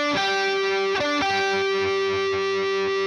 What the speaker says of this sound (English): You can hear that G string ringing out in the background